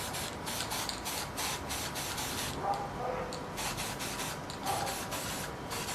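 Spray primer hissing from an aerosol can onto a 49cc Goped petrol scooter frame, steady broadband spraying in repeated short bursts with a continuous background hiss, fairly close.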